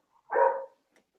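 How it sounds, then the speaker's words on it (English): A single short dog bark, moderately loud and close, heard alone in a quiet room during an online book fair call. "Sorry, my dog's barking."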